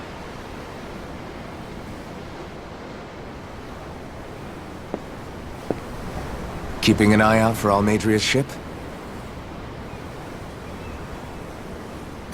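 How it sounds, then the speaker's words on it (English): Steady ocean surf washing around a ship at sea in Tales of Arise, a constant soft rushing wash with a brief spoken line in the middle. "The ocean? Yeah. The waves."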